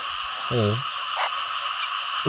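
Frogs croak in flooded rice fields after heavy rain, a loud, close, resonant call standing out over a steady chorus of other frogs and insects in the wet night.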